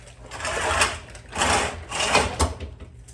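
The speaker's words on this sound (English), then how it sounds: "we'll try moving this machine around" A Harvest Right freeze dryer scrapes and bumps as it is shifted around, with several uneven bursts of rumbling friction and knocks close by and no speech.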